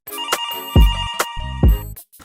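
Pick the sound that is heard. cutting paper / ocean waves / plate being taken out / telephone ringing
telephone ringing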